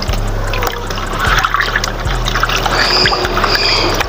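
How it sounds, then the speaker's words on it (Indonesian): Warm water poured steadily into a container holding a small animal after a long journey, a continuous close splashing trickle over a low rhythmic pump-like hum. "Ini tak kasih air hangat karena habis perjalanan jauh guys"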